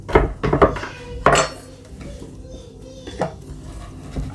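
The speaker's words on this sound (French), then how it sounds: "je vais venir casser mon chocolat en petits morceaux" A knife breaking a bar of chocolate into small pieces for cookie dough, several sharp cracking chops and knocks on a board in a quick burst, then quieter scattered taps.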